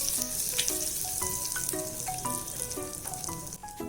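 Cumin seeds sizzle and crackle in hot oil in a pan for stuffed okra fry, a steady close frying hiss with scattered pops and faint clinks throughout.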